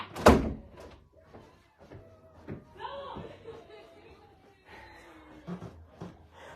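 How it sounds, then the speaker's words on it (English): A door is pushed shut indoors with a sharp close thud at the start, followed by softer knocks, rustles and faint background voices. "Hold on, let me close this door back."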